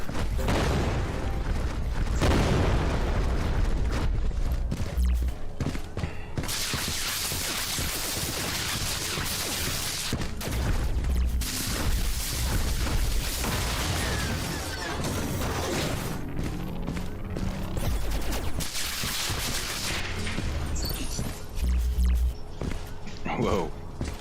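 Explosions in a sci-fi video game set on a high-tech colony planet, heavy booming blasts and crashing debris repeating over a loud, dense game soundscape, with a person talking at times.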